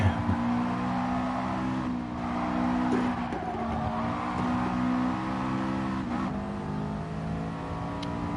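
A race car engine in a racing video game at Spa drones steadily at high revs with sustained tonal harmonics, rising and falling slightly as the car accelerates, with faint tire squeal and no talking.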